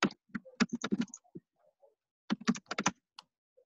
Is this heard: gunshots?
no